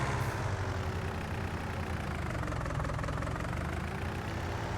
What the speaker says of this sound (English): She's not a fast tractor.